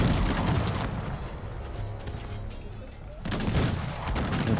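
Musket volleys and artillery fire crackle in a large troop battle in Cossacks 3, a dense burst of overlapping shots that thins out and then swells again, with a commentator talking over it.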